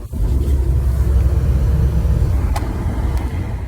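Car driven on the road, a steady low engine and road rumble running throughout with no talk.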